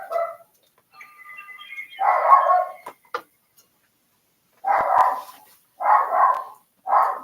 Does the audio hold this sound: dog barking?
yes